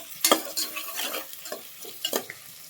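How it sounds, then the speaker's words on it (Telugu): A spoon scrapes and clatters against a pan as onions fry with salt, with several sharp stirring strokes over a light sizzle and no talking. "సాల్ట్ వేసి కలపండి మంచిగా."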